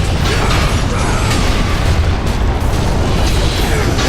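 Giant gears grind and turn in God of War: Ghost of Sparta, a dense, continuous mechanical rumble with clanking and heavy churning that stays loud throughout.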